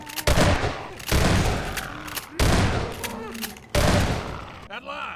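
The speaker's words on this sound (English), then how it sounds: "the shotgun actually being able to fire" Shotgun blasts in Half-Life 2, four loud booming shots spaced about a second apart, each with a sharp attack and a decaying tail, plus game sounds after the last shot.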